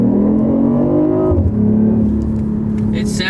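BMW i8 accelerating on a test drive, a steady engine hum that climbs, drops briefly as it shifts, then pulls again, heard from inside the cabin at moderate loudness.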